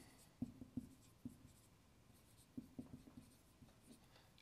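Pen strokes scratching on paper close by, a quiet run of short taps and scribbles in two bursts with a pause between, no voices.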